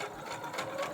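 Sewing machine stitching a cloth face mask, a fast steady whirring chatter of the needle running continuously at close range, with no pause and no voices.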